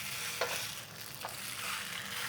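Tofu and bean filling frying in a cast iron pan on a burner, a steady close sizzle with a couple of brief sharper crackles as it is stirred and spread.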